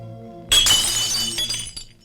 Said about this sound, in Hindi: कुछ नहीं, ग्लास टूट गया।